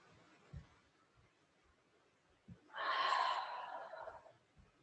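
A single deep, breathy exhale rises midway through a quiet yoga session and fades slowly, preceded by a few soft thumps and light breaths, with no one talking.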